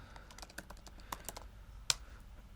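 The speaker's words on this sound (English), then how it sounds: "I will type just now" Rapid, irregular clicking of keys on a computer keyboard as a command is typed. The close, light keystrokes come in quick bursts, with one sharper key press near the end, and no voices are heard.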